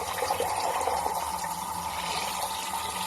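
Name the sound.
lukewarm tap water filling an aquarium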